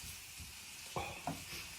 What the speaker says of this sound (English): Now we just want to mix all that in together for a few minutes.